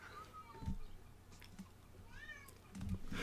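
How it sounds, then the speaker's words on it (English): A pet cat meows several times indoors, short rising and falling cries spaced apart, moderately close, with faint background noise and light movement between calls. "One of your cats is talking."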